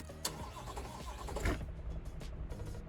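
A car engine in Car Mechanic Simulator 2026 cranks and catches, a quick starter burst followed by the motor firing up and settling into a steady idle, close and moderately loud.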